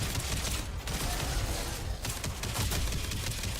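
Sustained gunfire in the space game Elite Dangerous, fired at downed players to revive them: a loud, dense barrage of rapid shots with brief dips in the volley.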